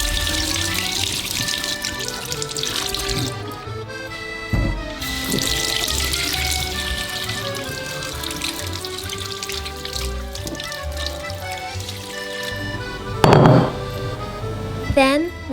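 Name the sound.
washing vegetables under running water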